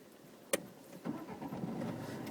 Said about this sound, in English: we turn the engine on again